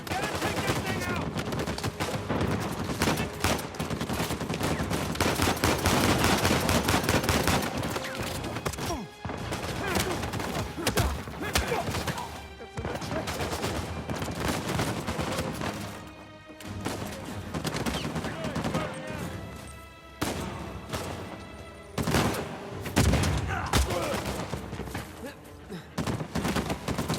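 Machine gun turret fire in the action game Uncharted 4, loud sustained bursts of rapid gunfire broken by brief pauses, mixed with explosions and game noise, with voices talking over it.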